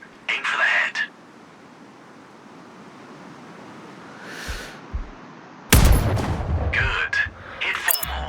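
Sniper rifle shots ring out in Sniper Ghost Warrior Contracts, with a sharp loud crack near the middle followed by echoing tail and a few lighter impacts, over a low ambient outdoor rumble.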